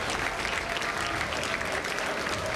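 Dense, continuous applause and cheering from a large crowd gathered at Starbase before a Starship rocket launch, loud and sustained throughout without pause.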